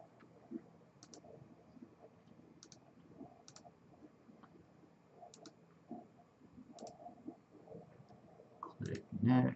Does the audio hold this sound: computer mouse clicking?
yes